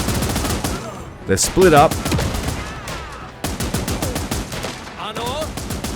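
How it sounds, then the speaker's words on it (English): Machine gun fire in the video game Last Train Home rattles in rapid bursts through most of the stretch, layered with game voices and someone talking over the action. "The machine gun just cutting straight through the formation."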